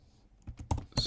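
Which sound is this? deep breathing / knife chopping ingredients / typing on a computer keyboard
typing on a computer keyboard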